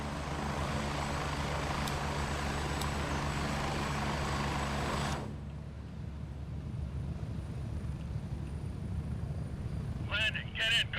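A helicopter in the video game Gray Zone Warfare roars with steady rotor and engine noise, loud and close for several seconds, then drops to a lower muffled hum with brief chatter near the end.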